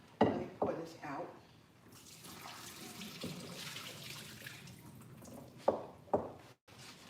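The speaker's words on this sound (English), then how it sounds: "Let me pour this out" Liquid pours and splashes out of a pressure cooker into a sink during Sunday dinner prep, a steady wash of water with a few sharper clunks at the start and end, close and moderately loud.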